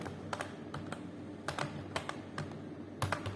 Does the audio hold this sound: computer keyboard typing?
yes